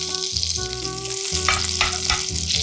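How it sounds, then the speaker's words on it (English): Butter and olive oil sizzle loudly in a pan, a steady crackling hiss mixed with a low hum and a few sharper spattering pops, with no voices. "Take butter and olive oil in a pan."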